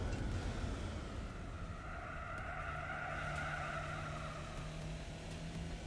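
A car in Gran Turismo 4 slides through a corner with a sustained tire squeal over a steady engine drone. The skid holds at a constant level for several seconds with no voice.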